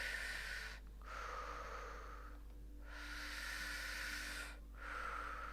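Slow, deep breaths drawn in and out through the nose during a seated chair yoga stretch, three long airy hissing cycles close to the mic with no talking.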